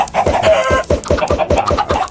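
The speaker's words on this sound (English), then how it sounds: "All those fucking chickens, dude." Minecraft chickens cluck loudly in a rapid, repeated burst of about a dozen short clucks, close and insistent, with no talking over them.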